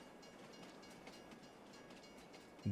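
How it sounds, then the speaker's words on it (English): A train rolling past in Farming Simulator 22 near Alma, Missouri, a faint steady rumble with soft rhythmic clatter, distant and low under the game's ambience. "Get out of here, train."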